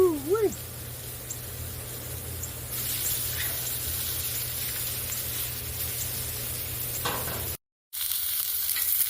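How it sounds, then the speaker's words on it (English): London broil and chuck roast sear in a pan with a steady, fairly soft sizzle and frying hiss that swells partway through. A voice is heard briefly at the start, then a short cut to silence near the end. "we've pretty much finished searing our 2 slabs of meat"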